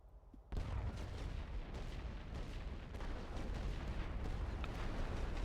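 Heavy World War I artillery fire in a strategy game rumbles after a brief quiet moment, a dense, continuous barrage of booms and blasts sustained at loud, even intensity.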